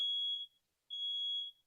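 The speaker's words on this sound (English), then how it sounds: "My fire alarm's going off." A home smoke-style fire alarm sounds in two loud, piercing beeps, each about half a second long, separated by a short silent gap.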